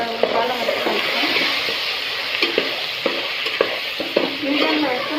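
Curry leaves fry in hot oil for gongura chicken, a bright close sizzle broken by the scrape and clack of a spoon stirring the pan at intervals.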